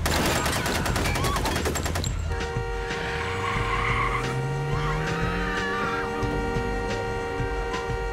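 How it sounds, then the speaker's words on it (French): A car pulls up on a street and a burst of rapid gunfire breaks out, loud and close, followed by a lingering engine drone and a steady tone as a staged sound effect for a crime drama. "les meurtriers s'étaient rangés près d'eux dans la rue avant d'ouvrir le feu"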